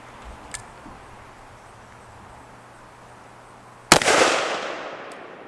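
A single .44 Magnum revolver shot cracks out loud and sharp near the end, followed by a brief decaying echo, after a few seconds of quiet outdoor ambience.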